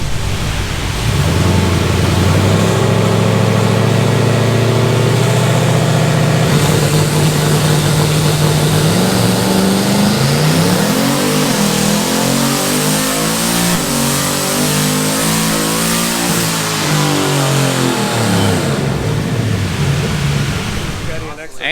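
A Chevrolet S-10 No Prep Kings drag truck engine revs hard on a dyno, its loud roar climbing steadily in pitch through a long pull before easing off near the end, with a broad wash of noise throughout.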